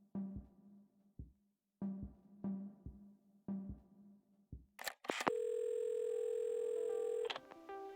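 A telephone dial tone from the video game Assemble With Care holds steady for about two seconds after a few soft, rhythmic handling thumps and clicks of the receiver being picked up.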